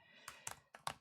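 Keystrokes on a Dell XPS 13 7390 laptop's shallow-travel keyboard, heard as a few quick clusters of crisp, close clicks with short pauses between them.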